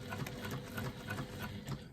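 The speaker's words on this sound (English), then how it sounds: "You can use the longest stitch you have on your machine and just 1/8 of an inch seam allowance" A sewing machine bastes foam to an exterior fabric panel on its longest stitch, whirring steadily with a quick even rhythmic needle chatter, close and fairly quiet, without talking.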